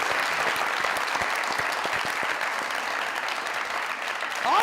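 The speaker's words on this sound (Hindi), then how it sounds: "तालियां।" A studio audience at a comedy show claps steadily and loudly, dense continuous applause holding for several seconds and swelling slightly at the end.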